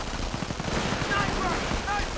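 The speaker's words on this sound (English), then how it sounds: "MP40's firing away" MP40 submachine gun fire from the World War II strategy game Company of Heroes, rapid bursts crackling continuously amid a dense, loud battle mix with other gunfire.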